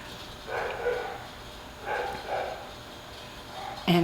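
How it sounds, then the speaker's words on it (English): A sheepadoodle and a smaller dog bark indoors in a few short bursts, moderately close, with quiet gaps between and a brief louder sound at the end. "all the sheepadoodle does is bark like that"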